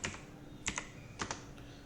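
Several short bursts of keyboard typing as a profit figure is entered during a commerce accounts lesson, quiet clicks in small clusters with pauses between them, no talking.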